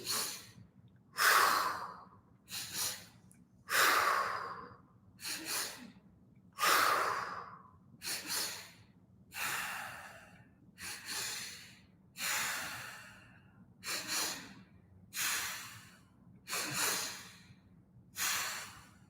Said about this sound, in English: So all together, deep breath in, full exhale. 2 breaths quickly.